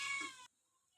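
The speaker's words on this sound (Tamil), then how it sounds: "பூனையை காட்டுங்கக்கா. பாவமாக கத்திட்டு இருக்கு என்ன பார்த்த உடனே." A cat waiting for fish gives a single short, pitiful meow, close and clear, then quiet.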